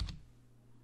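One soft, close click of the Enter key on a computer keyboard during Photoshop editing, a single quick tap that dies away against a low background hum.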